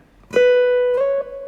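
A single plucked acoustic guitar note rings out, then slides up in pitch to the 14th fret and sustains, clear and close.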